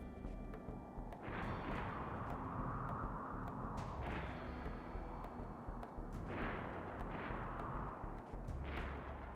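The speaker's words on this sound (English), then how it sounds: "That shooting in here?" RimWorld gunfire: several separate muffled shots and booms over a steady background rumble, with shots near the start and in a tighter cluster toward the end.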